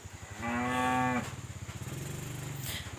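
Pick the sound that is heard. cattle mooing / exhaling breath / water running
cattle mooing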